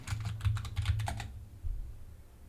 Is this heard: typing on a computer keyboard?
yes